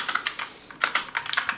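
Fingers typing on a Gamdias Hermès P1 keyboard, with close, crisp clicky keystrokes in two quick bursts separated by a short pause.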